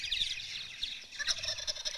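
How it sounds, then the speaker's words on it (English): Recorded turkey gobbles play out in a fast, warbling burst, faint and somewhat distant, with no voices over them. "Oh, it's a turkey."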